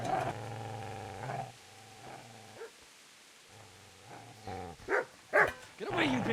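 A dog in the medieval role-playing game Kingdom Come: Deliverance growls and barks in low, rumbling bursts, with a voice shouting over it toward the end.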